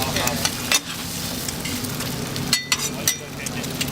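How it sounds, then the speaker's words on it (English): Dozens of eggs fry on a Taiwanese street stall griddle in a dense, continuous sizzle, broken by a few spatula scrapes and taps against the hot metal. "Dozens of eggs are cracked and spread, creating a vast golden sheet"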